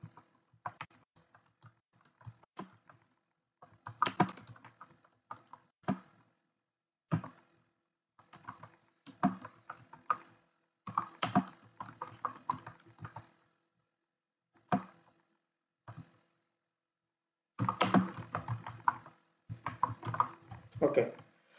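Computer keyboard typing in irregular bursts of quick clicks separated by pauses, close and clear, as someone types an address.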